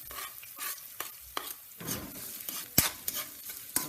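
Garlic and ginger sizzle in hot cooking oil for a vegetarian banana heart adobo, with repeated sharp scrapes and clinks of a utensil stirring against the pan over a soft frying hiss.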